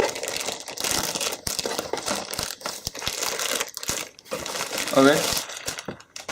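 Strong plastic wrap on a OnePlus 6T phone box crinkles and crackles as it is cut and pulled away, in close, busy bursts with small clicks, while a person says a word.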